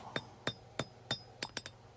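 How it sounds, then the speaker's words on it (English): A hammer forges the tip of a small skinner knife blade down to a point. Seven sharp, ringing strikes land at a fairly even pace, each one clear and close with a short metallic decay, and no one talks. "Notice I'm hammering from 3 sides, and that's to draw the point out while still keeping the thickness roughly the same"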